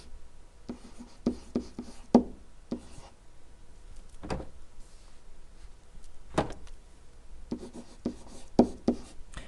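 A pen or marker scratches across a board in a trigonometry lesson, in short irregular strokes with sharp taps between them, close and fairly quiet, with no talking.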